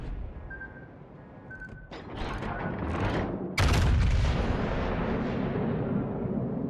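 Naval guns firing a broadside in a warship video game, aimed at the Yamato: two heavy booming blasts, the second louder, each trailing off into a long rumbling roar.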